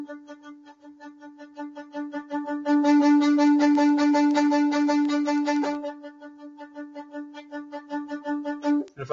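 Violin spiccato on the open D string, rapid bouncing bow strokes on a single steady pitch, swelling from soft to loud and back to soft, played close and alone.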